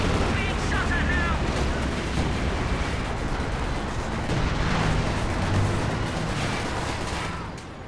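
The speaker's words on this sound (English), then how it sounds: "Nice fire exchange right here." Infantry sections trade fire in a war strategy video game match, a dense, continuous rumble of overlapping gunshots and distant artillery booms with a voice talking over the battle.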